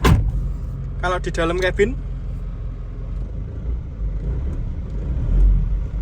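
The 2003 Isuzu Panther Touring diesel engine idles, heard from inside the cabin as a steady low rumble. Someone speaks briefly over it.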